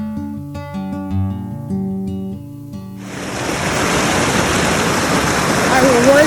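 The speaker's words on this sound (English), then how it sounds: "we're getting to follow this glacier creek up towards the top of the pass off of Mount Jefferson" Music plays for the first few seconds, then a glacier creek near Mount Jefferson in Oregon takes over with a loud, steady broadband rush of water that continues to the end.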